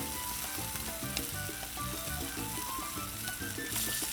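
Chicken wings frying on a Blackstone 22-inch griddle, a continuous close sizzle of hot fat with steady crackling and no talk.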